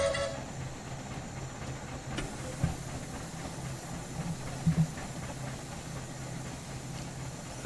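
Quarry Hunslet steam locomotive on the Bala Lake Railway pulling coaches, a steady rumbling chuff and hiss with a few clanks and knocks from the wagons, close and continuous.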